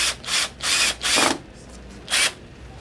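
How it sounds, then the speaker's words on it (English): A power drill drives screws into a tree outdoors, with four short, loud whirring bursts separated by brief pauses. "take and drill through the tree right there in that spot"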